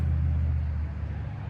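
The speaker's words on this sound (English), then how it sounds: "Those cars are loud, aren't they?" Loud car traffic passing outside a CVS store, a steady low rumble that holds strong for the first second and then eases slightly without fading away.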